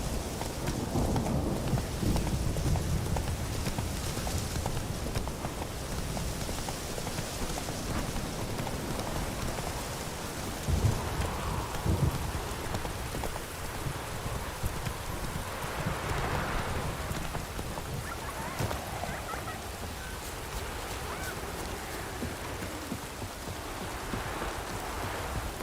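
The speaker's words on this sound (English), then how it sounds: "Lightning strike." Steady heavy rain pours through a Witcher 3 storm, with rolling thunder rumbling underneath and a sharper crack of thunder near the middle, continuous and fairly loud with no voices.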